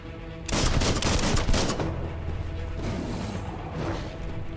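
Bursts of gunfire from shooting in Biomutant, a video game, crackle in a dense rapid volley that starts abruptly, then trails into a lighter second burst near the end.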